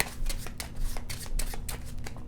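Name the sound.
shuffling a deck of Cartographers Heroes cards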